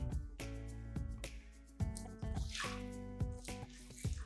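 Water pours over sage, cinnamon sticks, cloves and cardamom in a cooking pot, giving close, quiet splashes and drips in uneven bursts with a gurgling fill in between.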